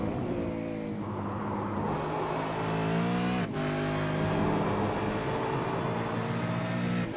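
A race car pulls out of the pits at Road Atlanta, its engine droning with shifting harmonic tones that rise and dip as it accelerates, loud and close, with a brief sharp transient midway.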